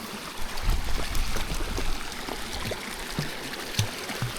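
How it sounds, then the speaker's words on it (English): A dog named Lizzie splashes through a flowing mountain stream, with irregular sloshing bursts over the constant close babble of running water. "Oh, that's a deep splash, isn't it?"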